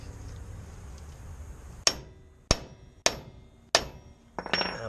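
A hammer drives an axle bearing into place on an '04 Ford Ranger rear axle with a 7.5-inch ring gear: four sharp, evenly spaced metallic taps, then a duller, more rattly thud as it seats, close and without talk.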